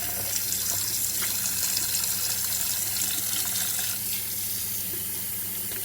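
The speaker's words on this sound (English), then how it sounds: "I like to just run the tap through them now and again when I'm changing over my waters" Tap water runs steadily into a sink over bundled wool locks being readied for dyeing, a continuous close splashing gush with no talk.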